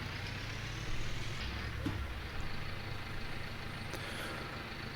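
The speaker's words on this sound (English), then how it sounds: "let's drop this trailer back, pick up the other trailer" A tractor with a trailer in Farming Simulator 19, a steady low engine drone with a brief hiss like an air release and a few light clunks, fairly loud and continuous.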